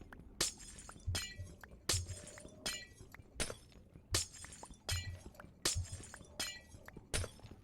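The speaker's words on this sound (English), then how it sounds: "We'll break all this glass out of here." Glass blocks shatter one after another in Minecraft, about ten sharp, crisp breaks spaced roughly a second apart, fairly quiet and with no talking.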